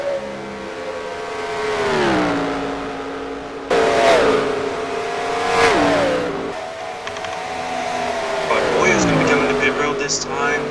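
Stock cars in the NASCAR Racing 2003 sim, racing the Coke 600, whine past in three separate Doppler sweeps, each engine note rising then dropping as it passes, with a voice talking over the engines.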